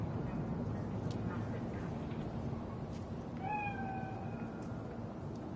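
A faint, drawn-out meow from a ghostly cat spirit in Cyberpunk 2077 rises briefly over a steady, noisy ambient rumble, distant and eerie.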